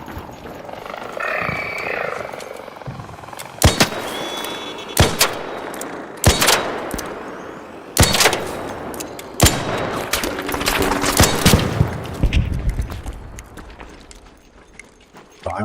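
Gunshots ring out in the ARC Raiders video game, single sharp reports spaced a second or two apart over a busy, noisy game soundscape, with a few closer heavy blasts toward the end.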